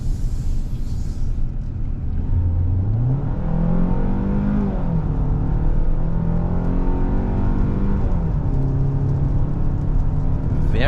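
A 2023 Hyundai Santa Fe with the 2.5 engine accelerating in sport mode on a highway, its engine note climbing through gears with clear upshift dips over a constant road rumble.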